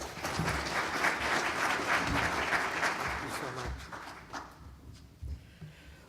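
An audience in a hall applauds as speaker Leslie Blakey is welcomed at a maritime leadership symposium, with steady loud clapping that fades over several seconds into scattered claps and footsteps.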